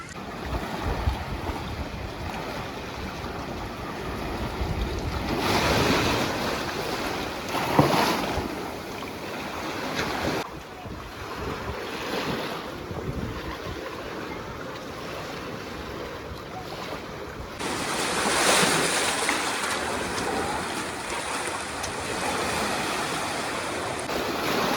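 Waves at the quiet Alfa Momong beach wash in and recede as a steady rushing surf. Louder swells come and go, with wind buffeting the microphone.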